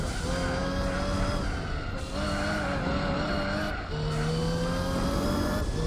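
Race cars in Gran Turismo 4 drone with steady, loud engine tones that climb and drop as gears shift, with tire squeal mixed in across the whole stretch and no talking.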